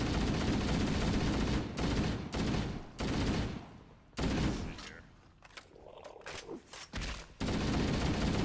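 Bursts of rapid video game gunfire, loud and close, with repeated volleys broken by brief gaps and a quieter stretch of scattered shots midway.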